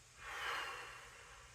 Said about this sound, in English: Now breathe out